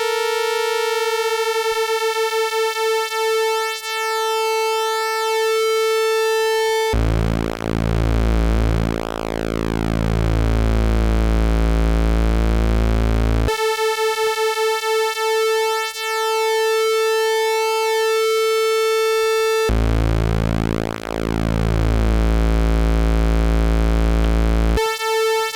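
Modular synthesizer holding a high A note as a knob is turned, a loud steady electronic tone that switches between a bright buzzy timbre and a deep sweeping filtered sound in alternating sections, alone without voices.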